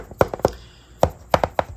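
Knuckle taps on the hollow, grooved hanji paper relief of a textured acrylic painting, about eight short dry knocks in irregular pairs and clusters, close and fairly loud with no voices.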